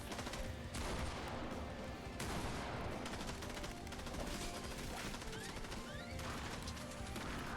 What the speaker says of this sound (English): turret is holding it down right now